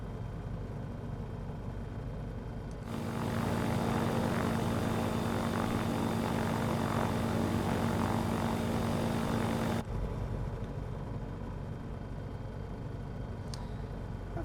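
A bush plane's propeller engine drones steadily in Microsoft Flight Simulator on a flight out of Alaska, swelling to a louder, fuller roar for several seconds before settling back to a lower, even hum.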